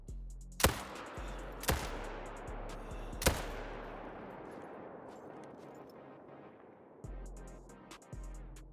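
Three sharp rifle shots ring out about a second apart in a mule deer hunting video game. Each crack is loud and decays into a long rumbling echo, and two faint later thumps follow without talk.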